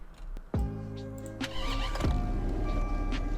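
A V10 engine cranks and fires up on a 2017 Bullhorn SFP Python in a driving game, with a sharp starter burst followed by a loud, steady idle rumble that rises slightly and holds.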